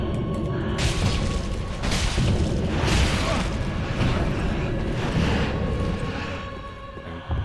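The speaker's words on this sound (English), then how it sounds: "She can also light the area around her on fire" Roaring flames and deep booming bursts as a boss sets the ground around her alight in Dark Souls III, a loud continuous rumble with repeated surges of fire throughout.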